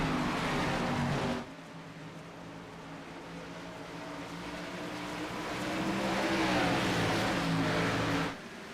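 Race car engines roar in an iRacing sim race start at IRP, a loud sustained engine drone with gear-change dips and a rising rev swell as the pack accelerates, no voices.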